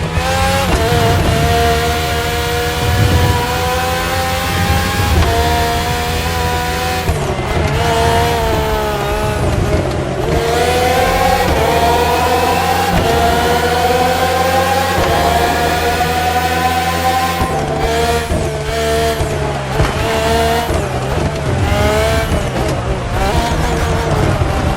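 Red Bull Formula 1 race cars (RB13, RB14, RB18 and RB20, with Renault and Honda engines) in The Crew Motorfest video game. High-revving engines scream and shift pitch continuously, loud and close, with upshifts and passing whines throughout.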